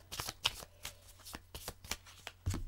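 A deck of cards is shuffled for a card draw, with a rapid, uneven series of close riffling and snapping bursts and no voices.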